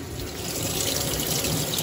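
Cold water pours steadily into a washing machine drum, a close, continuous rushing splash with no break.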